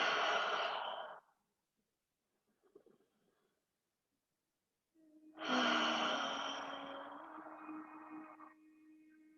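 Slow meditative breaths, one long airy exhale fading out, a near-silent pause with faint rustles, then a longer, fuller breath that tapers off gently, close and soft.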